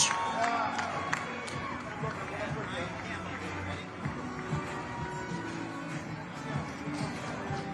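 A crowd cheers and roars at a boxing weigh-in ceremony for a WBC Interim Welterweight World Championship bout, a steady loud wash of voices and shouts with an announcer talking over it.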